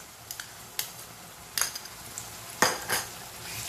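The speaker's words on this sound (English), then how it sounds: "now I'm going to add the ginger garlic paste" Ginger garlic paste goes into a pan of whole-spice chicken and is stirred, a few scattered clinks and scrapes of a utensil against the pan over a faint sizzle, with sharper knocks near the end.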